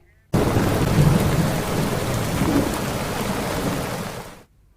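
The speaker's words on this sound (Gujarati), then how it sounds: "સમગ્ર વિસ્તારમાં જળબંબાકાર થયો હોય તે પ્રકારનો વરસાદ અત્યારે વરસી રહ્યો છે" Heavy rain pours down in Ahmedabad with rumbling thunder, a loud, dense, continuous roar that begins abruptly and fades near the end.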